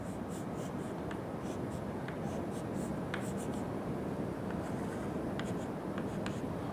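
A pen scratches across a surface as a lecturer draws a diagram, with steady close strokes and short pauses, under a low room hum.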